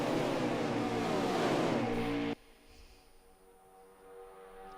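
A tight pack of stock cars roars at full throttle at Talladega, a loud, steady engine drone that cuts off abruptly and leaves a faint, distant hum.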